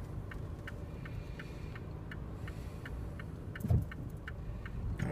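Road traffic rolls through a street junction at the end of Søborg Hovedgade where it meets Gladsaxevej in Søborg, a soft continuous hum with a brief louder pass, accompanied by steady faint regular ticking.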